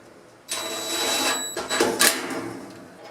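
A screw being driven in with a power driver to hold a dryer's thermal fuse in place, a close whirring buzz that starts abruptly, runs for about two seconds with brief stutters, then trails off.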